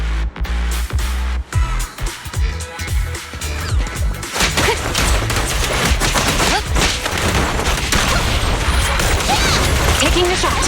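Sustained gunfire in a Zenless Zone Zero combat scene, a dense loud barrage of rapid shots and crashing impacts that builds after a few scattered bursts and keeps going under a game soundtrack.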